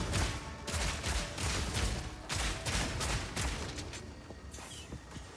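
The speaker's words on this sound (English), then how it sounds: "Am I shooting so many fragmentation bolts?" Fragmentation bolts fire from a unique crossbow in Path of Exile 2, a dense stream of rapid overlapping shots and bursts running steadily throughout, loud and continuous with no speech.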